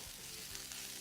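Escarole leaves wilting as they are sautéed in a pan with no added water, giving a steady, close frying sizzle across the whole moment.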